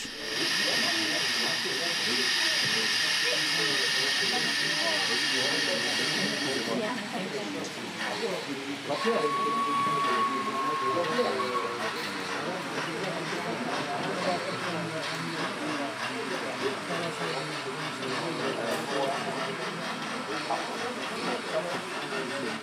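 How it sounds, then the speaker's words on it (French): Steady steam hiss from a sound decoder in a model train locomotive on an exhibition layout runs continuously, loud and close, with a brighter hissing layer early on and a short whistle-like tone midway. "Si on ajoute une ambiance sonore au travers des locomotives pourvues de décodeurs sonores"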